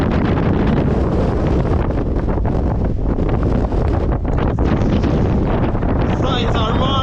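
Relentless wind sweeps across a ridge, buffeting the microphone in a loud, unbroken rush with gusty surges.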